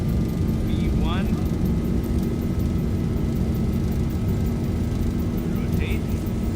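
An airplane taking off in the X-Plane 11 flight simulator: a loud, steady, unbroken engine roar for the whole stretch, with faint brief chirps on top.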